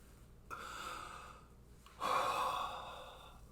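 Breathing out during Agnisara Dhauti yoga practice, two soft, breathy exhalations, the second stronger and longer, close to the listener in a quiet room.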